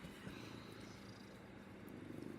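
A pet cat purrs close up in a steady, low continuous rumble that holds evenly from start to finish with no talking.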